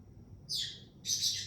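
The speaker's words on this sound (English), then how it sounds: "the birds are really kind of driving a pick in my brain right now" Pet birds indoors giving two loud, close, high chirps in quick succession over a quiet room.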